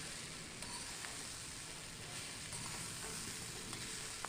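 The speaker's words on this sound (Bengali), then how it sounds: "খুব ভালো করে সমস্ত কিছু ওপর নিচ করে মিশিয়ে দিচ্ছি।" A steady, soft scraping and gentle sizzle as mixed vegetable labra with grated coconut is stirred and turned over in a pan, continuous and low in level with no talk.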